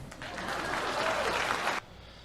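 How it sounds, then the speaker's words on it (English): A short burst of crowd applause lasting under two seconds, moderately loud and even, ending abruptly into near silence. "Please clap."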